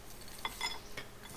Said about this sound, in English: I'm just going to give that a little bit of a stir there, just to kind of mix it up.